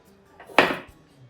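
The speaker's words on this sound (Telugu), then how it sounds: "ఒక ప్లేట్ తీసుకొని" A single clatter of a plate being picked up in a home kitchen while making tandoori paneer curry, one sharp close knock that quickly fades.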